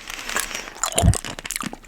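Close wet mouth sounds of sucking hard candy, with clicks, crinkly smacks and a soft thump in the middle, intimate and continuous.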